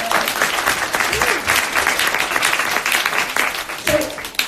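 An audience at a launch event applauds in a dense, sustained burst of clapping that fills the room, with a few voices mixed faintly underneath.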